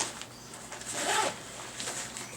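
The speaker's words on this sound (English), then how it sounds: "It zips all the way out, and we pretty much just have one zipper in here." Main-pocket zipper on an Osprey Talon 22 daypack being drawn open, a soft rasping pull that swells in the middle and trails off, with a few lighter zip strokes after, close and quiet with no talk.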